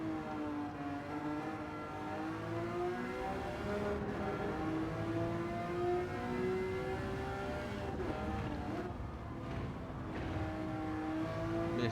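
A Ferrari F40 from Gran Turismo 7 races hard on the Deep Forest track, its engine droning and rising through the gears with steady high revs, loud and continuous with no talk.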